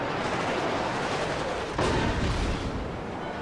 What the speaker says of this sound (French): Et Fiji continue à me tirer, mais il me tire dessus qu'avec une seule tourelle.